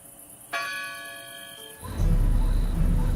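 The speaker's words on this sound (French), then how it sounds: "Lorsque retentit la marangona, la plus grande cloche du campanile de Saint-Marc" The marangona, the largest bell of St Mark's campanile in Venice, gives one clear ringing strike that hangs and decays before a loud, rumbling wash of noise swells in beneath it.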